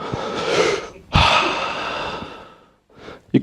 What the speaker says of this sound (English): And take a deep breath.